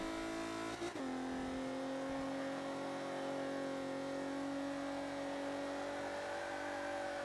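A D-class car driving in the Forza 5 racing game: a sharp click or knock, then a steady, smooth engine whine that settles at a constant pitch through a turn, heard alone without talk.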